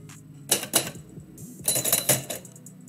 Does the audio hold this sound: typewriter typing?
yes